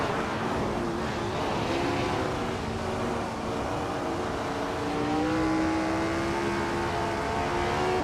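A McLaren M5A and other race cars in a racing video game roar steadily, a continuous engine drone with slowly rising and falling pitch, close and loud throughout with no talk.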